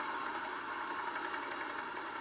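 Bulldozer engine running at a steady idle-like drone, a continuous mechanical rumble with faint knocking vibration that stays even throughout, with no speech.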